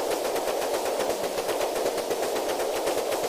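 Rapid, sustained naval gunfire from an Arleigh Burke destroyer in a modern carrier group battle game, a dense unbroken stream of loud fast shots with no pauses.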